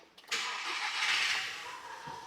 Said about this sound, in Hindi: ओके करके हम गाड़ी चालू कर देंगे